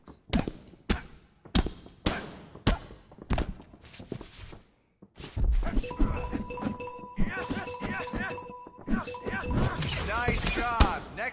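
Body-shot punches in the UFC video game land as a run of sharp, evenly spaced thuds. A denser flurry of impacts with crowd and arena noise follows, and a voice talks over parts of it.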